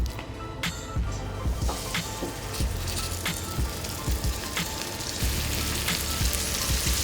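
Flour-dredged meat for osso buco fries in a hot oiled pan, a loud close continuous sizzle and crackle with scattered pops and spatters throughout, no voices over it.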